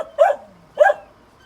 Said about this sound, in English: I just have to keep stopping because the dog keeps barking